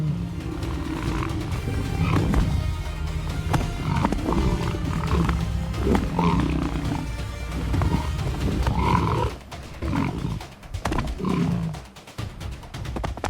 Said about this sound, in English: Lions clash, grapple, and roar, every movement charged with the will to dominate the kill.